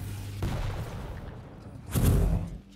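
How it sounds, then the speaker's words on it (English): Rocket launcher fire during a Quake-style 125FPS duel match, heard as a couple of heavy, booming blasts, the louder burst arriving near the end over steady game noise. "He's going to long distance rockets again"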